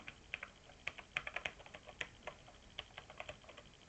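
Quick, irregular clicks of rubber keys being pressed on a ZX Spectrum keyboard during a driving game, soft and close, with bursts of several taps and short pauses, no voice.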